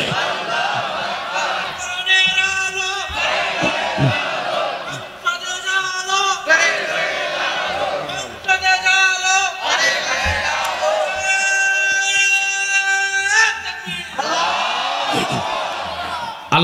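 A large religious gathering in Parbatipur, Dinajpur, answering a takbir call with repeated loud, chanted shouts in unison, rising in waves between a speaker's amplified calls.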